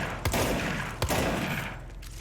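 A shotgun-like weapon shaped like a crossbow fires in the video game Control: two sharp, heavy blasts about a second apart, each with a short rumbling tail.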